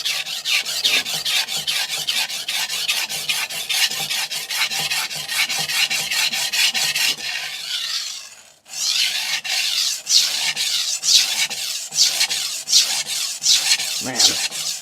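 Knife sharpened on a 400 grit extra hard vitrified diamond whetstone glued to a flat piece of marble, loud rhythmic rasping strokes in rapid succession, a brief pause midway, then strokes resume, close and alone.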